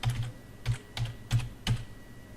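Typing a collection name on a computer keyboard, five distinct clicky keystrokes in a quick uneven rhythm, close and clear over a quiet background.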